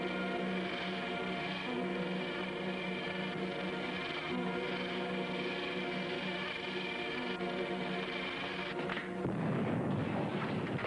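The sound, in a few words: explosion sound effect in radio drama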